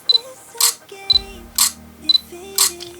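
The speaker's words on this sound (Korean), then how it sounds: "연사 같은 경우에는 다다닥 찍히는 건 아니고 버튼을 누르고 있으면 계속 찍혀요" Fujifilm X100F shutter firing in continuous shooting mode, a crisp mechanical click-clack repeating about twice a second, close and loud, with faint electronic beeps and a low hum underneath.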